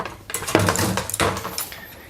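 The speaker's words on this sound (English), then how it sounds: "I'm just gonna go ahead and drop in the pasta and get this all mixed together" Cooked pasta dropped into a pan with butter and cream for Japanese mentaiko pasta, giving a few clinking metal-on-pan scrapes and stirring clatters, close and moderately loud with no talk.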